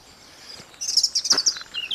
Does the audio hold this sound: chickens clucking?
no